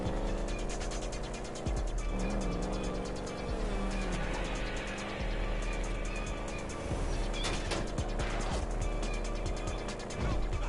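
Dense, loud video-game driving audio with a car engine droning amid crashes, thumps and clattering mechanical noise, continuous throughout.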